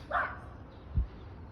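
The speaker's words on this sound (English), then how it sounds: "Golden Retriever. Good morning. Hi, Good morning, dog." A Golden Retriever gives two short, faint barks about a second apart, each standing out from a quiet indoor background.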